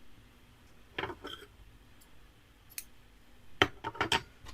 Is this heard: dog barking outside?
no